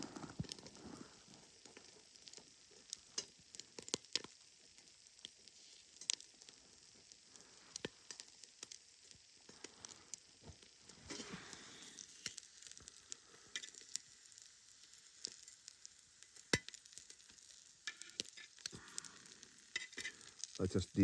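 Eggs frying in a Muurikka frying pan outdoors, a faint, continuous crackling sizzle with scattered sharp pops and occasional scraping clicks, quiet and distant, without speech.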